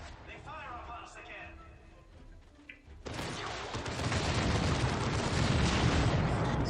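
Enemy gunfire in the Dawn of War 2 strategy game: after a few seconds of a voice over faint battle sounds, a dense, loud barrage of rapid shots and booms erupts and continues as a roaring wall of fire.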